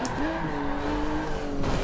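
A race car driven in Forza Motorsport 7, its engine holding a steady high whine that rises in pitch as it accelerates, loud and close with a hint of tire noise.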